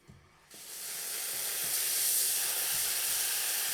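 Compact La Pavoni Europiccola lever espresso machine's steam wand opening up into a strong, continuous loud hiss that builds and holds steady without letup.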